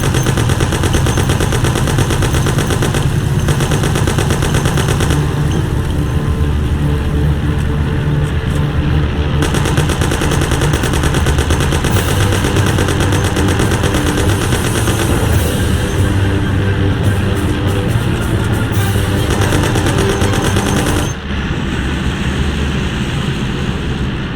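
Heavy sustained gunfire in the video game Mafia, rapid automatic bursts continuing almost without pause alongside a roaring car engine, loud and dense throughout.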